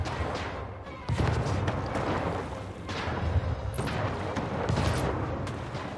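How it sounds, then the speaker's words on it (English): Mortar fire in the video game Anno 1800, a series of heavy booming blasts with rumbling tails arriving every second or two, loud and close, with no talking. "Okay, mortars are fun."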